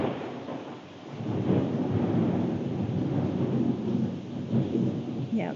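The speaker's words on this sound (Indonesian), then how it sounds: "di sini lagi hujan jadi pasti masuk ke rekaman" Steady rain pours outside with low thunderstorm rumble, a continuous broadband wash that swells after the first second and stays fairly loud throughout.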